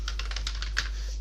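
Rapid keystrokes on a computer keyboard while entering an item name into Excel VBA billing software, a quick run of close, light clicks with one sharper tap near the end, and no voice.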